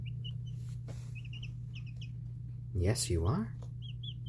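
Tiny chicks on day 20 peep softly in a brooder, faint high chirps scattered throughout, while a person talks near the start and middle.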